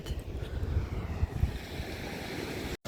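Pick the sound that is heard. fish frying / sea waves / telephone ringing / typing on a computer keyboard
sea waves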